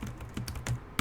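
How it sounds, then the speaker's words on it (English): Several quick, light keystrokes on a compact Logitech K380 mini keyboard, close and crisp, with a final sharp tap at the end. "compared to this small keyboard, the K380, Logitech"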